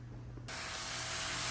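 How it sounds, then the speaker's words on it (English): Hamburger meat cooks in a pan, bursting into a loud steady sizzling hiss that starts abruptly and carries on evenly without talk. "All right, cooking the hamburger is underway."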